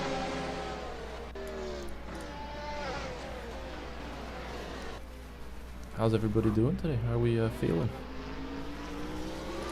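F1 race cars and a safety car drone and whine through a racing video game, with a sustained engine tone and a sharper pitched surge of revving passing close by near the end, under steady talk.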